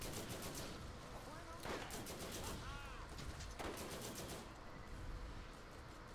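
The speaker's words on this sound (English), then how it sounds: "I'm getting shot by so many things right now." Rapid bursts of gunfire in the video game Borderlands rattle steadily throughout, with dense automatic fire and clustered shots from several sources under a busy game mix.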